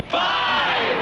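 A crowd cheering at a football game in a radio ad: a sudden, loud, sustained roar of massed yelling that swells and holds for about a second.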